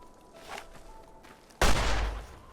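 A single loud gunshot from a randomized weapon in Fallout New Vegas, out in the dry desert, hits sharply after a quieter stretch of faint game ambience and rings out briefly.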